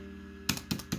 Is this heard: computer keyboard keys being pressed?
yes